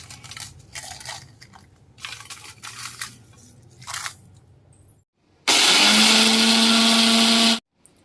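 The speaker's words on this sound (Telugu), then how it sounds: "ఎండుమిరపకాయలు కూడా ఇందులో వేసేసి మెత్తగా గుండ కొట్టుకుని పట్టుకొస్తానండి" After a quieter stretch of rustling, an electric mixer grinds fried dried red chillies with asafoetida into powder. It gives one loud, continuous whirring burst of about two seconds, then stops abruptly.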